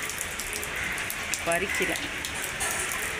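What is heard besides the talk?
rain falling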